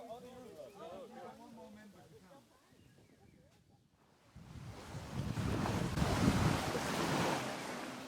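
Waves and gusting wind sweep across a sailing jetty, rising after a quieter opening into a broad, steady roar of surf and wind buffeting the microphone, following brief talk at the start.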